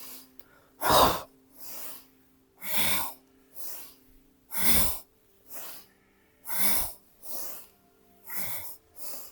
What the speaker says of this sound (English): Strong breath. Breathing all the way in and all the way out